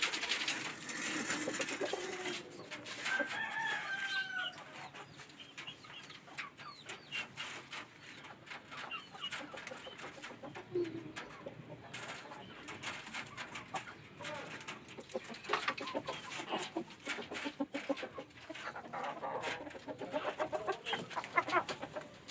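Two laying hens cluck at feeding time, with scattered bird calls rising over a steady, noisy farmyard background that lasts throughout.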